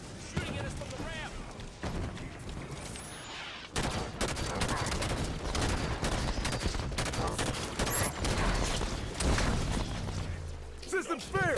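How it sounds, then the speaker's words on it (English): Rapid bursts of automatic gunfire from a Halo Wars 2 firefight, loud and nearly continuous, broken by short pauses and sharp high blips, with game voices talking over the shooting. "Shooting at us from the ramp."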